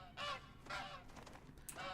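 Wild birds call in a hunting video game set on the Revontuli Coast map, giving a run of loud, harsh honking calls in several quick bursts, like geese, with no talking.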